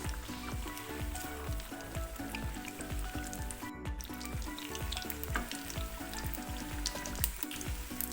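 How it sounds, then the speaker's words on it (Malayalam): Egg bajji, battered eggs, fry in hot oil with a constant soft sizzle and dense crackling pops, close and moderately quiet, with no talking. "നമുക്ക് നന്നായിട്ട് തിരിച്ചു മറിച്ചുവിട്ട് നന്നായിട്ട് ഫ്രൈ ചെയ്തെടുക്കണം"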